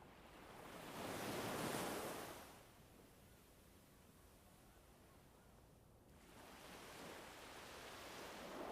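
Ocean surf swells and recedes in slow broad surges, a loud wash building and fading, then a quieter stretch before another wave rolls in, with steady wind noise underneath.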